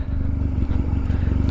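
A very loud motorcycle engine rumbles close by with a deep, steady throb and some rattling, holding at a constant drone without speech.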